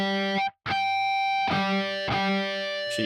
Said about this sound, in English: we do the harmonic on the 5th fret